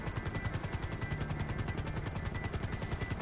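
A helicopter in GTA Online on PS4 thrums with a steady, rapid rotor beat, moderately loud and unbroken for a few seconds with no voices.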